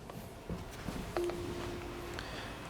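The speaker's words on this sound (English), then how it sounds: "what happens when somebody initiates a call from the intercom. So if I go ahead and push this button" Akuvox R20 video intercom giving a steady electronic call tone after its call button is pressed, a single sustained beep lasting about a second over faint room noise, preceded by a few soft clicks.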